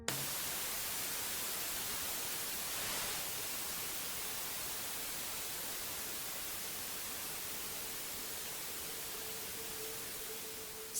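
Steady, loud broadband hiss of white noise played through headphones during a Ganzfeld sensory-isolation experiment, continuous and unbroken for the whole stretch with no other sounds.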